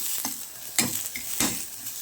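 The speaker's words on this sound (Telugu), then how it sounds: "ఇక్కడ ఆయిల్ను గీ వేసి బాగా ఫ్రై చేసుకుంటున్నాను" Almonds sizzle in hot ghee while a utensil stirs them in the pan, with three distinct scraping strokes over a steady fry hiss, close up.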